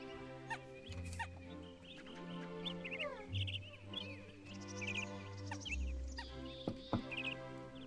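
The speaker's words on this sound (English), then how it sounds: "Birds." Birds in the video game Viva Piñata chirp and cluck in a busy garden chorus, with repeated bright tweets and fowl-like calls over sustained tonal game music, steady and close throughout.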